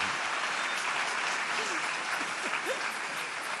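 Applause from an audience at a church event, a steady sustained clapping across the whole stretch with faint voices calling out beneath it.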